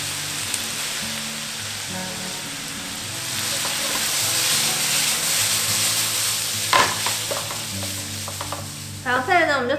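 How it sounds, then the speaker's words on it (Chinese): A vegetarian minced filling is stir-fried in a wok with soy sauce, soy paste, sugar, pepper, five-spice and Sichuan pepper powder, giving a loud, continuous sizzle with scraping stirs and a few clinks toward the end, no talking. "然后一般把它炒香"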